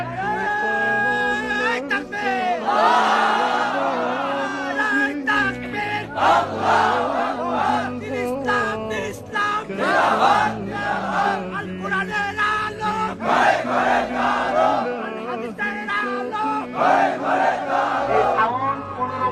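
A crowd at a religious gathering in Kushtia chanting takbir, with repeated loud call-and-response shouts from many voices in rhythmic surges under amplified leading calls.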